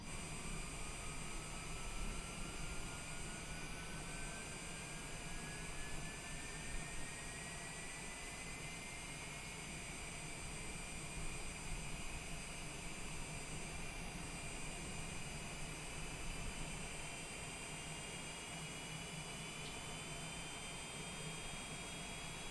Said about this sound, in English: Go back outside for engine start.